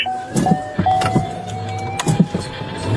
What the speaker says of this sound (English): he hit the gas and took off, igniting a high-speed pursuit